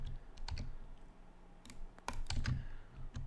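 Keyboard and mouse clicks while connecting hoppers in Minecraft, a sparse, irregular run of close, crisp taps and clicks in a quiet room, some clustered in quick pairs, with no talking.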